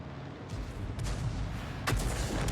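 A tank cannon fires in a tank battle video game, a heavy booming shot followed by a second sharp blast, loud and close with a rumbling tail and no talk.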